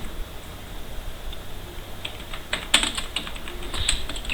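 Keys tap on a computer keyboard, quiet at first and then quickening into a burst of clustered clicks, close by and heard on their own without any talking.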